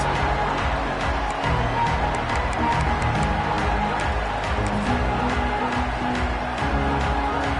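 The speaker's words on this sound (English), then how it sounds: "This crowd ready to make its presence known." A large crowd at a college football game in a stadium roars and cheers continuously, a dense wash of massed voices that stays steady and loud throughout without letting up.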